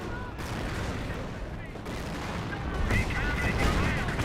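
Rapid gunfire and artillery bursts from a Company of Heroes battle, dense crackling volleys and booms layered continuously, growing louder toward the end, with a voice talking over the combat.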